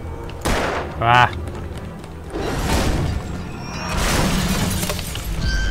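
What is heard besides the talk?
gunshot shattering a window in the video game Alan Wake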